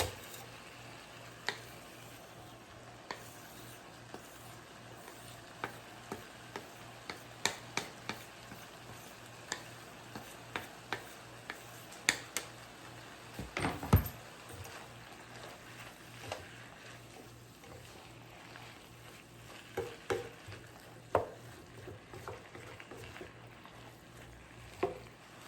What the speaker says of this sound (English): we're gonna add the chopped mushrooms